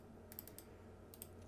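Light keystrokes on a computer keyboard, a few quick soft clicks in two short bursts, faint and close, while text is entered in MetaTrader 4 trading software.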